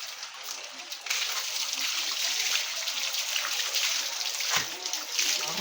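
Water splashes and sloshes steadily during a bath, a close, continuous wash of spattering with a few louder dips and slaps, with voices in the background.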